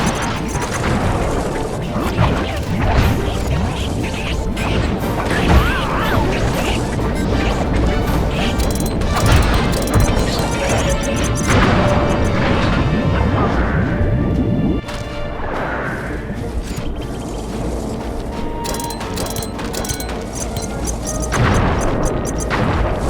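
Bombs blowing up in the PS3 video game Sly 3, a dense, continuous run of loud crashes, booms and metallic clanks layered over game music and effects, with no break in the noise.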